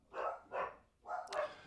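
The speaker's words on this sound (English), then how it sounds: "Those are my dogs that are barking." Dogs bark at home in four quick bursts, two clear barks, a pause, then two more. They sound moderately close but fairly soft, with nobody talking.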